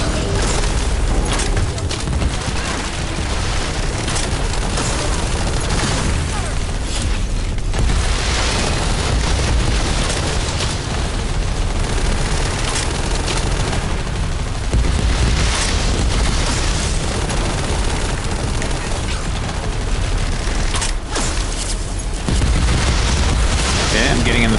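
Constant loud gunfire and booming explosions from a sci-fi looter shooter, The First Descendant, forming a dense, unbroken wall of battle noise with no pauses.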